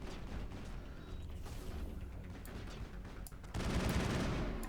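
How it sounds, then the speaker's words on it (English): Gunfire in the video game Mass Effect pours in on the player from several directions, a dense, continuous crackle of shots with mechanical clatter that swells louder near the end. "Oh, I'm getting shot again. By everyone from all directions"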